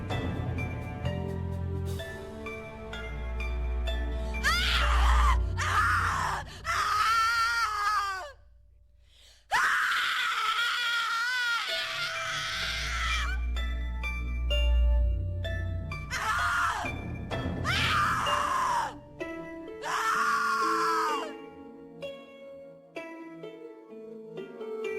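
Anguished screaming and wailing from a character in the horror video game The Cat Lady, several long drawn-out cries rising and breaking over a low droning musical score, loud and close with brief gaps between outbursts.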